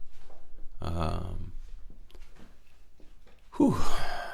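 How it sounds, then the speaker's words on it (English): Heavy, close breathing into a microphone: a long rushing exhale, then quieter gaps, then another loud gusty breath, with a hint of voiced sighing. "I don't know why I'm breathing so heavy on the mic"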